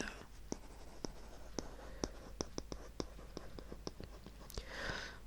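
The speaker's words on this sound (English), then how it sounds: "let me just write that" Pen scratching across paper in a quiet room, with repeated short tapping strokes and light scribbles at an irregular pace, close and soft, followed by a brief rustle at the end.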